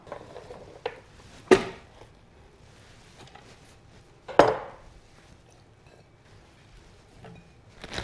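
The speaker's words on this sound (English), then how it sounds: "Now all those vegetables we just messed with go into the pot." Chopped vegetables for a beef and pork ramen tumble into a slow cooker pot in a few sharp, clattering drops, two of them loud, with faint thuds and kitchen handling in between.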